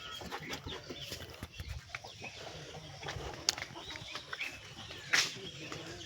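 Farm chicken chicks peep and cheep in a hot rural yard, short high chirps scattered over steady background noise, with one brighter call near the end and faint voices nearby.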